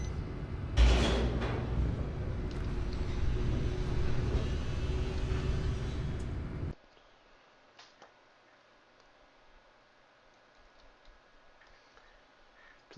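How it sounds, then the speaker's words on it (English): Elevator doors slide and the car rides in the video game The Stanley Parable: a loud, sustained mechanical hum and rumble with a sharp thump near the start, then an abrupt cutoff to near silence with faint ticks. "Elevator!"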